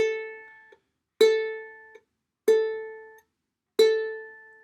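A single ukulele A string plucked four times at an even, slow pace, each note ringing clearly and decaying before the next, close and alone with no talking.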